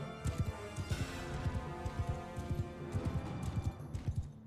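Horse hooves gallop in a fast, steady clip-clop rhythm in the video game Bannerlord, close and fairly quiet, with no talk.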